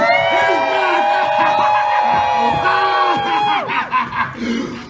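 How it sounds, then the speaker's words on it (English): Crowd at Halloween Horror Nights screaming and roaring together, a loud sustained wall of yells and whoops with rising shrieks that break into scattered bursts near the end. "Scream for me one more time, maniacs!"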